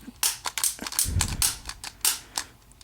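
Sharp mechanical clicks from pushing the pilot ignition button on a 1986 Williams Forsaire direct-vent gas furnace, a quick irregular series of loud, close snaps with one low thump partway through.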